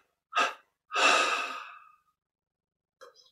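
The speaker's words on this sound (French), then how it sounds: "Puis on prend une inspiration profonde. Expirons 3 fois et pause." Two deep breaths during a breathing meditation: a short sharp intake, then a long, breathy exhale that trails off, followed by silence and a faint soft breath at the end.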